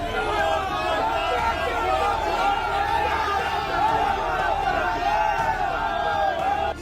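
A dense crowd chants and shouts slogans of "thief, thief" at Raj Chakraborty in Barrackpore, a continuous loud roar of many voices with rhythmic shouting throughout.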